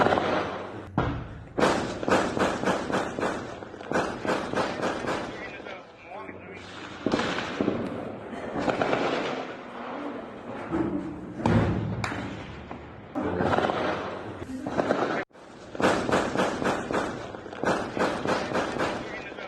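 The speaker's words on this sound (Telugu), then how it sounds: "మయన్మార్ సరిహద్దులోని మణిపూర్లో మరోసారి కాల్పుల మోత మోగింది" Repeated sharp bangs of a gunfire exchange between security forces and militants in Moreh, Manipur, near the Myanmar border, coming in dense clustered bursts throughout, loud and echoing, with a voice speaking over much of it.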